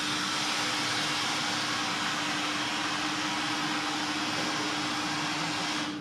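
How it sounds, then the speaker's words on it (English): A dry ice machine runs with a steady, loud, broadband hiss and a constant low hum, unbroken for the whole stretch with no talk. "Mandy's making some dry ice."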